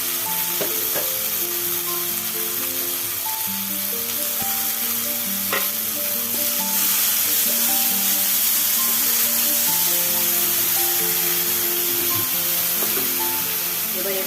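Grated ginger, chili and tomato frying in hot oil in a pan, a steady loud sizzle with occasional stirring scrapes, continuous throughout.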